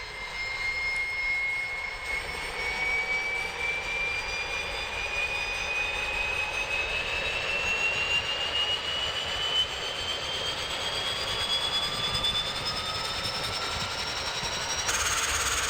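Engines of a Carenado SF 340 turboprop spool up in the Prepar3D flight simulator, a steady droning roar with a whine rising slowly in pitch over about fifteen seconds.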